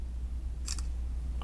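A Samsung Galaxy Z Flip 4 snaps a photo, giving two quick crisp shutter clicks close together over a steady low hum, followed a moment later by a faint soft electronic chirp.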